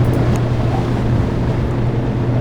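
A boat engine drives the craft hard across open seawater in the game 80 Days, a steady, loud low rumble and roar with wind-like noise running unbroken throughout.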